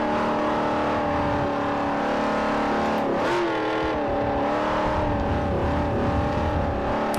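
A race car engine in Forza Motorsport 4 on a Class B international tour, droning steadily and loudly with a brief dip and rise in pitch mid-way as it shifts, continuous throughout with no talk.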